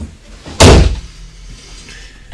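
A household door swings shut with a single sharp, loud slam close by, followed by a short fading rattle and quiet room tone.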